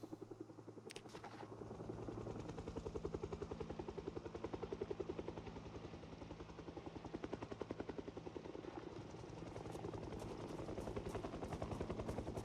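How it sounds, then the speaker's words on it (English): A helicopter passes overhead in the zombie survival game Project Zomboid, its rotor chopping in a fast, steady rhythmic pulse that stays loud and continuous throughout, with a few sharp clicks near the start. "The helicopter's back."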